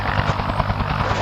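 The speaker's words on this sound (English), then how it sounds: "We hear you in the chopper hovering above something." A helicopter hovers close and loud, its rotor giving a steady, rapid thumping chop over a continuous engine drone.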